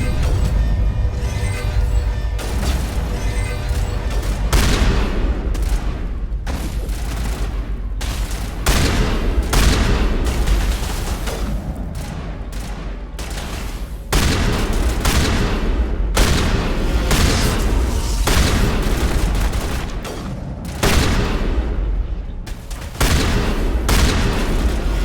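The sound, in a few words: shotgun gunfire in Mass Effect video game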